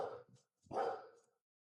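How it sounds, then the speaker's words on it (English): A pet dog barks twice indoors, a short yelp followed by a longer, fuller bark after a brief pause, both fairly faint and with no talking. "my dog was losing his mind and nobody wants to hear all his barking"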